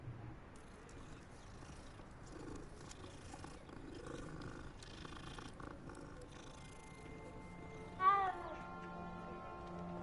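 A cat in the Hogwarts Legacy video game gives a single short meow that rises and falls, heard about two-thirds of the way through over quiet, low game ambience.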